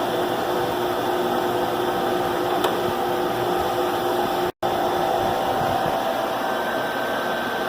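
A Kice Waterfall aspirator separates dried cranberry seed from chaff with a loud, steady mechanical hum and airy rush, broken once by a brief cut in the sound.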